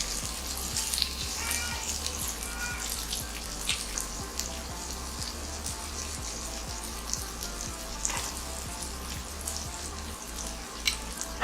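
Food frying in a pan during home cooking, a steady crackling sizzle with scattered pops and light stirring, continuous and fairly close with no talk.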